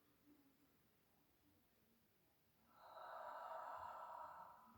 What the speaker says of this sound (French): Donc ça c'est votre respiration